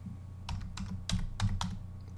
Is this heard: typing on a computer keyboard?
yes